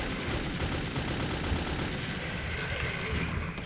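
Sustained, dense gunfire from the video game Metro 2033, a loud continuous wash of rapid shots with no clear breaks between them and no speech over it.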